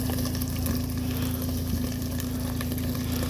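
Meat sizzles and fries steadily in a skillet, a dense continuous crackle with a low hum underneath and no talking.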